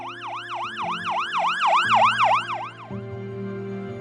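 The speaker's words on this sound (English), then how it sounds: "We hear the ambulance." An ambulance siren wails in a steady rising-and-falling cycle, fairly close and loud, with a low engine rumble underneath.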